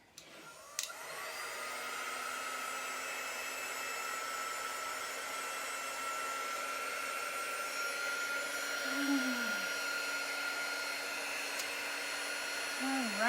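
A hair-dryer-style heat tool blows steadily and continuously, drying chalk paste on a stencil; the sound is close and even throughout, with a brief pitch wobble midway and at the end.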